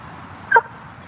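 Leyla the dog gives one short, high whimper while wanting to play, standing out briefly over a quiet, steady background hum.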